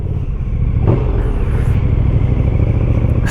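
A motorcycle being ridden through the Thüringer Wald, its engine giving a loud, steady, close rumble for the whole stretch, with no one talking.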